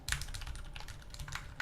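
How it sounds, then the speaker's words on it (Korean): Fast, forceful typing on a Lunepoker U60 custom mechanical keyboard with black keycaps, a quick irregular run of sharp, close keystroke clacks with no talking. "분노에 차올라서 타이핑을 하고 있는데"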